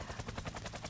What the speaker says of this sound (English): Oh, yay, the helicopter event.